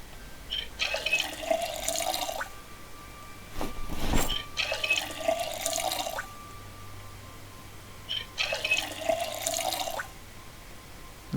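Tap water fills a container in the Project Zomboid video game, heard as three separate bursts of splashing flow of a couple of seconds each, with quiet pauses and a soft thud between them.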